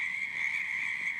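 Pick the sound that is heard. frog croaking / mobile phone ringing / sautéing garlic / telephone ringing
frog croaking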